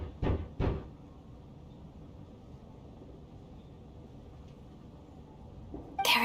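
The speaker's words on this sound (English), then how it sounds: "Or was that a knock at the door?" Two quick, solid knocks on a wooden door in the game Genshin Impact, with a snowstorm outside. The raps come close together at the start, then a low, steady background hum carries on alone.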